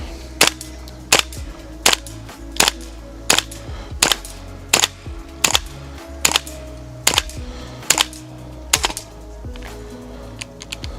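A WE XM177 V3 gas blowback airsoft rifle fires about a dozen sharp, evenly spaced shots in a steady semi-auto rhythm, each with a crisp mechanical snap, over a constant low background hiss, in cold weather around minus four degrees.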